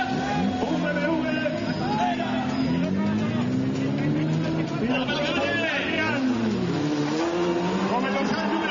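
A BMW 525 engine roaring and revving at a destruction derby in Sanxenxo, Spain, loud and continuous with rising and falling pitch, heard under a commentator speaking over a PA.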